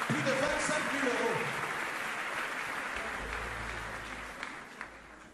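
A church congregation at a revival meeting in Sarcelles breaks into sustained applause, a dense wash of clapping and cheers that slowly fades, with a voice speaking over the start.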